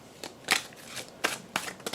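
Tarot cards being shuffled by hand in short papery riffling bursts, about five quick flutters spaced irregularly, close and fairly quiet with no voices.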